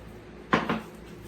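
A metal bread pan holding crumble-topped blueberry bread is set onto an oven rack, giving two quick close clatters in a quiet kitchen.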